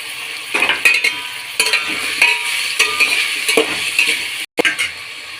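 Four small pieces of medium tomato sizzle in a hot pan for a potato pulao and chicken curry, with a spoon scraping and stirring in irregular bursts over a constant frying hiss.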